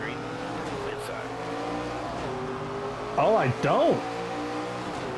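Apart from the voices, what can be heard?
race cars accelerating at Bristol in NASCAR 25 video game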